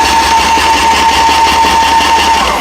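An airless paint sprayer running in prime mode gives a loud, steady mechanical hum with a sustained whine, unbroken and close, with no talking.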